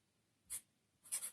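A pen or pencil drawing on paper, two short soft scratchy strokes close by in a quiet room, the second slightly longer.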